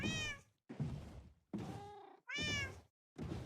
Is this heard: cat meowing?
yes